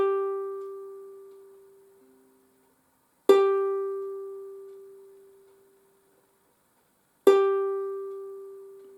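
A single ukulele high G string is plucked three times, each clear note ringing out and slowly fading before the next pluck, alone and close.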